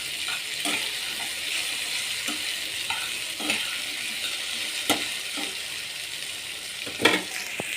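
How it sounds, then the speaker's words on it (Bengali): Okra fries in a pan with a constant bright sizzle, while a utensil stirs it, adding occasional scraping clacks and one louder knock near the end. "দিলাম ভাজিটা, ঢেঁড়স ভাজিটা"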